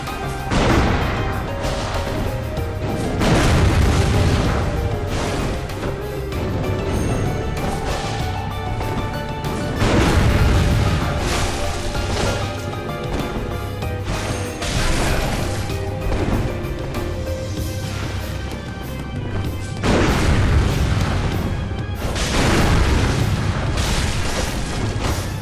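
Heavy, powerful gunfire in Bloodborne, several loud booming blasts with crashing impacts recurring every few seconds over a dense, noisy game soundscape.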